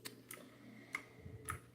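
Sparse clicks from a computer keyboard, a handful of faint, quick keystrokes spaced irregularly over a quiet background.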